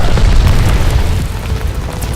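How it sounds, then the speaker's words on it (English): Glide bomb exploding in a video game, a loud, sustained deep boom with rumbling bass that fills the whole moment and fades slightly toward the end. "Heads up, enemy glide bomb coming in hot."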